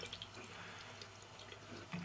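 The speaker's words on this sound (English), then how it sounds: "let the stream of water rinse the mustard off" Tap water streams steadily over copper, rinsing mustard off during a fire and ice patina process, a continuous close running splash with faint drips and no voices.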